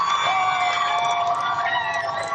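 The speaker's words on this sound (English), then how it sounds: "you can hear the roar of the crowd behind us" A crowd roars steadily at a high school varsity hockey game between Woodbridge Township and St. Joe's, a dense, sustained arena din with high whistling or siren-like tones riding over it, loud and continuous throughout.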